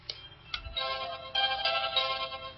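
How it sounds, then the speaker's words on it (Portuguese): Telephone ringing inside a building, an electronic ringtone with bright repeating tones in a steady pattern, heard on its own without talk. "a gente ouviu o telefone tocando lá dentro"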